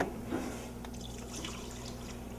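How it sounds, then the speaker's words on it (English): Water is added to a pot of beef braising in reducing wine, giving a brief, soft splashing and trickling close by, with no talk over it. "Add a little bit of water in there because the wine, once it starts reducing, can get a little thick"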